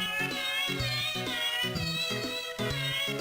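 Cats meowing in the Dwarf Fortress video game, repeated short meows overlapping a steady background of game music, moderately loud and rhythmic.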